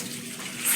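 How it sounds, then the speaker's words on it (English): Hot water pours and splashes steadily over football pads during a stain-removal soak, a close, continuous rushing gush that swells slightly at the end. "let me put a little water first. This hot water, the one that's hotter, I put that over"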